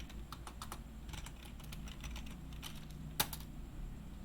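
Rapid keystrokes on a computer keyboard as router configuration commands are entered, a steady run of light clicks with one sharper key strike near the end, over a low room hum.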